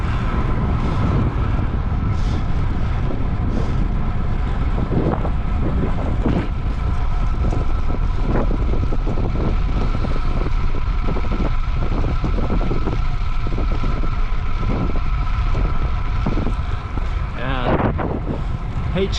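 Steady wind rushes and buffets a microphone outdoors on a rise, a continuous broad roar with occasional soft thumps and rustles throughout.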